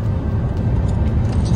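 Car cruising on the road toward Calgary from a camping stop in Waterton, Alberta; a steady, loud low rumble of engine and tyre noise fills the cabin throughout, with no talking.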